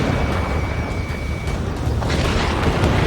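A UAV being shot down in the flight combat game Ace Combat 7 gives a dense, roaring explosion that fills the whole stretch, loud and continuous with a rumbling low end and a faint tone fading midway.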